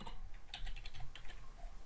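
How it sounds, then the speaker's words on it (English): Short burst of close, quiet key clicks from typing code on a computer keyboard, several quick taps in a row with no speech. "so don't curse me for this amount of typing"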